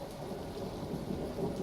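Steady rain falling with a deep rumble of thunder beneath it, a dense continuous wash of raindrops at even loudness.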